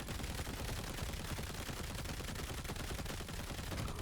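Rapid automatic gunfire in gun mode of the game Kiborg, a dense continuous stream of shots with no pauses, loud and close throughout.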